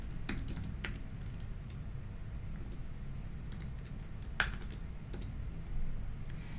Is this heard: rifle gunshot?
no